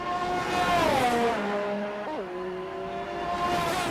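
Race cars in an Xtreme One League round in Australia, 2019, speed past on the track with a Ferrari close behind, engines roaring steadily and pitch sliding down as they shift and pass, loud and sustained throughout.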